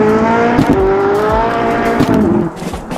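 Koenigsegg Jesko hypercar engine screaming loud and close on a race track, pitch climbing through rapid upshifts with brief dips between gears before the note falls away near the end.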